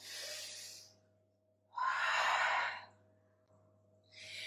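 Slow, breathy exhales during yoga practice come in two long airy whooshes close to the mic, with quiet pauses between them and a third breath starting at the end.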